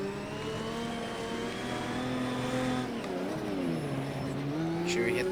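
Engine of an exotic car racing around a dirt track in a video game, a steady loud drone that holds high, then dips and climbs again as it shifts gear, with brief lower revving under braking.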